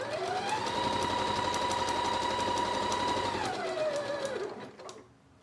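A domestic sewing machine stitches a zigzag to hold a fabric remnant in place, running with a fast, steady whirring hum that rises then winds down and stops near the end, with no talking.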